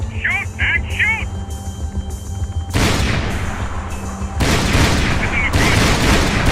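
Sustained automatic gunfire in Max Payne 3 pounds in loud, dense volleys that swell in two waves, mixed with shouting voices and other combat noise.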